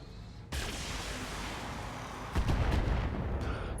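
Heavy weapons fire slams into a mech in the Battletech video game, a sudden loud rumbling barrage followed by a second heavier blast, with dense booming impacts throughout.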